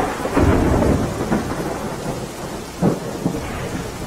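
Heavy rain pours steadily during a flood-causing downpour, with rolling rumbles of thunder rising and fading through it and no voices.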